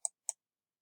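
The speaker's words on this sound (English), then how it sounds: "click the Sign In button" Two crisp, faint computer mouse clicks a quarter-second apart on a Zoom sign-in button, isolated against silence.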